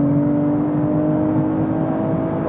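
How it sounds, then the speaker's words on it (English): Car engine pulling hard at about 200 km/h in a performance sedan, a steady loud droning hum with a rising whine and road noise, heard from inside the cabin with no talk. "Yeah, this engine is so much fun indeed."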